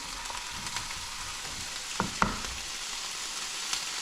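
Garlic fries in a pan with a steady, bright sizzle, and two sharp clinks of a utensil sound near the middle. No one speaks.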